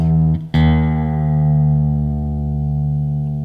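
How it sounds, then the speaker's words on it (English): A single sustained note from a Fender Jazzmaster with locked tremolo, its low E string detuned to D, rings with a brief pluck partway through, then holds steady and loud, its pitch settling lower. "I will detune the E string down to a D."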